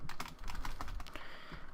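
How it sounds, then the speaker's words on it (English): Rapid, uneven typing on a computer keyboard while a Minecraft server is being set up, with a Blue Snowball microphone in the way; dense close clatter of keystrokes runs throughout, with no talking. "I apologize for the awkward typing with my blue snowball in the way"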